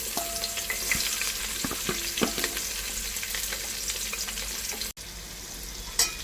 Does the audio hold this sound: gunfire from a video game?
no